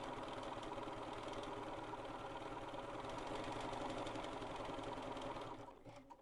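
A BERNINA sewing machine runs a very tiny stitch around a curve in appliqué, a steady fast close hum and rattle for about five seconds before slowing and stopping.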